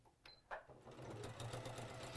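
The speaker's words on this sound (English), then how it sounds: "So I'm just sewing across the bottom" A sewing machine stitches across the bottom of fabric, starting after a couple of soft clicks and settling into a steady, faint motorized whirr.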